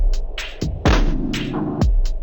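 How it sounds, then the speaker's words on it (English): A basic techno groove run through the BLEASS Slow Machine effect: loud, stretched and smeared kick thumps and pulsing hits repeat with a slowed, throbbing, warped character. "wait until you see what happens when we drop the BLEASS Slow Machine on it"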